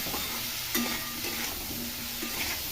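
Vegetables sizzle while frying in a pan with cabbage and green chillies being added, a steady crackle punctuated by a few scraping stirs of a utensil against the pan, close by with no talking.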